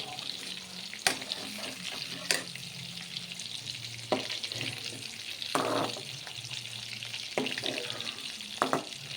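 Tender bitter gourd pieces fry in hot oil with a steady, close sizzle, broken every second or two by sharp clicks and scrapes as they are stirred in the pan.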